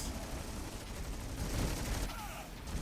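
Sieged tanks in the strategy game Stormgate fire splash-damage shots into massed units, a dense continuous roar of explosions and gunfire under battle noise.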